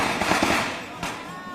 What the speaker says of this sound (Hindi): चौतरफा आतिशबाजी खूब हो रही है